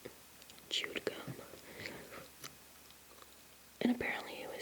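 Soft whispering close to the mic, broken by moist chewing clicks from gum, a sharper pop of mouth sounds near the end; quiet and intimate throughout.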